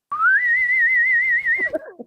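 A person whistles an imitation of the Star Trek whistle: one sustained, rising then wavering tone lasting about a second and a half, close and clear. A few short chirpy notes follow at the end.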